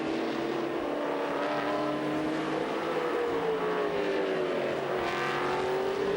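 A Speedcar Series race car, Jean Alesi's 27 car, racing at Dubai, its engine a loud, continuous high-revving drone that rises and falls slightly in pitch as it holds speed.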